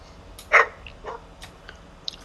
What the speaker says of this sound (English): Sorry, my dog's going crazy right now.